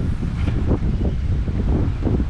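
Strong wind buffets past a fishing boat out on Eastern North Carolina water, a heavy, continuous low rumble of gusts thudding across the microphone with no voices.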